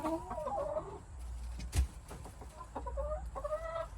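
Chickens clucking in a coop, with repeated rising and falling clucks from several birds at the start and end and a soft thump in the middle, fairly close and unaccompanied by talk.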